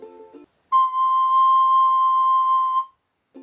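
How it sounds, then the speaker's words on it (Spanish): A recorder sounds a single held C note for about two seconds, clean and steady, with brief speech just before and after. "Suena así el do."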